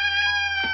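A pet cat named Cuthbert meows insistently for food, one sustained, tonal yowl held close to the listener with a slight dip near the end, loud and alone.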